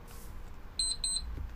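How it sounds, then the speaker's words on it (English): A Minecraft game timer alarm rings as two quick pairs of bright electronic beeps, faint against a low background hum, with no talk. "There's the timer."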